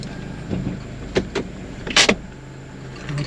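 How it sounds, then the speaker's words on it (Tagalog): Electric power windows whirring on a car being brought out, with short motor pulses in quick succession under a faint idling engine, close by and moderately loud. "nilabas ko na itong sasakyan para diretso na tayo"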